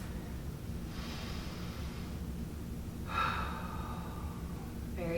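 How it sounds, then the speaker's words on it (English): Several people in an exercise class drawing deep breaths, with two long audible inhale-exhale rushes and a third starting, soft against a steady background hum. "Let's take some deep breaths."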